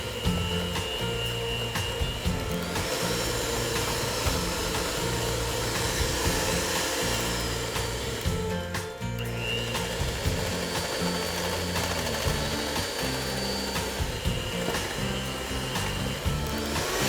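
An electric mixer whirs steadily and loudly, creaming butter, egg and sugar in a home kitchen, a continuous motor drone with a slight pulsing texture and no talk.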